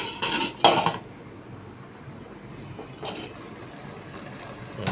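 A metal lid is set onto a pot of squid adobo with a close clatter and clink at the start, a quieter lull, and then another soft metallic rattle.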